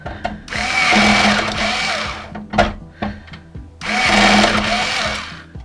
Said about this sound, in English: Alright, let's get these screwed in. It looks like my battery is starting to get low on the screwdriver.